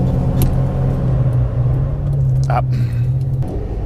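A Lamborghini Diablo engine idles with a steady low drone, then cuts out abruptly as it stalls near the end. A voice speaks briefly over the engine.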